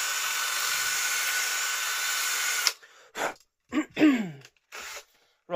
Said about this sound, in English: So I've got to get in a self-tapper screw.